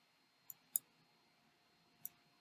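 A computer mouse clicks three times in a quiet room, with two quick clicks close together followed by a single click after a pause. The clicks are crisp and faint.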